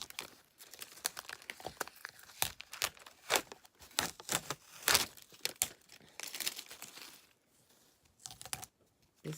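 A paper stencil is peeled up from its corners, giving close, irregular crinkling and tearing sounds in quick bursts that thin out toward the end, with no speech.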